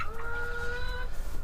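Hens murmur and cluck inside a chicken coop, a steady close-up burble of soft calls with a couple of drawn-out tonal notes, no voices over it.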